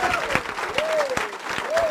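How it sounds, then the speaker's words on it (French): Church congregation clapping to acclaim the Lord, dense steady applause from a crowd indoors with a sustained sung or shouted voice running over it. "On peut acclamer le Seigneur."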